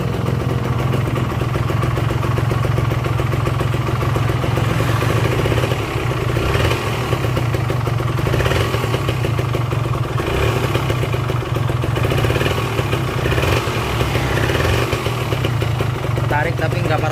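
A Kawasaki Ninja R motorcycle engine with a tendency to run hot, running loud and close with a rough idle and repeated throttle blips swelling and falling throughout.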